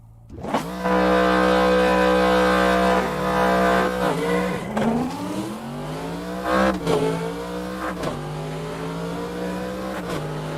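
A modified, power-built car in the racing game Assetto Corsa revs hard at a drag race, its loud engine holding a steady drone and then climbing through several rising pitch sweeps as it shifts gears.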